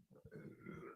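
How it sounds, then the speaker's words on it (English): One short, low, gurgling burp right by the microphone, barely a second long and fairly quiet, with no talking over it. "Hold on, I got burp."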